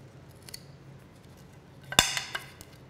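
Sledge hockey stick being cut to length, a faint snip near the start followed by a sharp, louder cutting crack and a couple of smaller clicks after it, in a quiet room.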